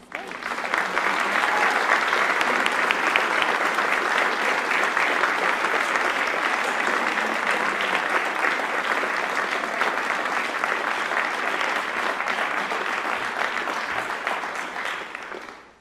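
Sustained audience applause welcoming Shannon Galpin to the stage at the Cincinnati Art Museum, a dense steady clapping from a large indoor crowd that holds for about fifteen seconds before tapering off at the end.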